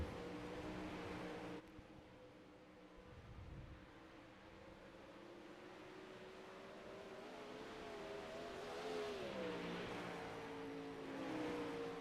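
Dirt track race cars circle a racetrack late in a race, their engines a faint, distant drone that rises and falls as the cars pass, with a sustained whine growing toward the end.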